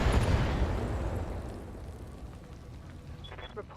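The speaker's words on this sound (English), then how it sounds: "Firing a full salvo." A mech in the BattleTech video game unloads a full weapon salvo, a loud, heavy burst of blasts with a rumbling low boom that decays over several seconds, a faint high ping near the end.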